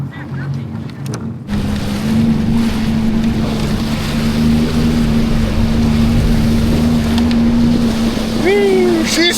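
A Sea-Doo personal watercraft skims across open water with a steady, loud engine drone, wind buffeting and water rushing continuously after a quieter start.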